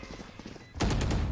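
Gunfire in the tactical shooter Valorant during a competitive match: muffled rapid thumps, then a sudden loud close burst of several sharp shots in quick succession.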